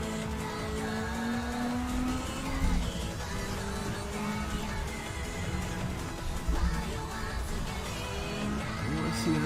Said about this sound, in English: Oh, I see a little drift.